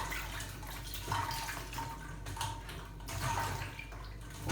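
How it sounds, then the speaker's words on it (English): Tap water runs steadily while eggshells are washed by hand in a sink, a continuous splashing flow that swells and dips with the scrubbing. "We'll wash all the eggshell completely."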